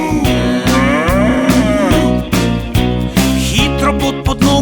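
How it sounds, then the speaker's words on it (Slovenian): A cow moos loudly inside a bouncy Slovenian children's song, its drawn-out lowing riding over steady music with drums and instruments from start to finish. "Krava se jezi, muka na ves glas."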